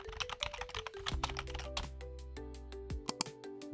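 Fast, crisp clicks of typing a search on a computer keyboard, a rapid run of keystrokes over sustained background music tones, close and moderately quiet.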